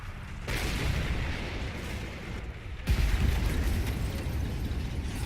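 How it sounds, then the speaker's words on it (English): Rockets from a Firefly tank exploding among infantry in the World War II game Men of War: Assault Squad 2, a continuous rumbling barrage with a sharp louder blast partway through, no voices. "No, those were the rockets of that Firefly"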